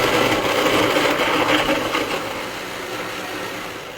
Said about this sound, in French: je vais couvrir le mixeur et mixer pendant 1 minute.